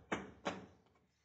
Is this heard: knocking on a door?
yes